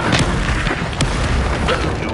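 Confringo fire spell explosions in Hogwarts Legacy, dense booming blasts and crackling bursts layered in a loud, continuous combat mix with short sharp peaks.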